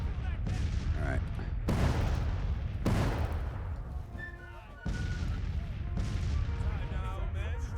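Musket volleys and artillery fire rolling across an American Civil War battlefield in Grand Tactician, loud repeated cracks and booms arriving in waves over a steady din of battle noise, with a voice speaking over parts of it.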